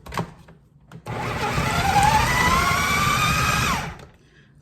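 A food processor whirs loudly and steadily for about three seconds, chopping up London broil for homemade dog food. The motor starts abruptly, its pitch wavers slightly as it works, and it winds down at the end.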